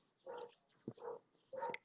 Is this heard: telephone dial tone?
no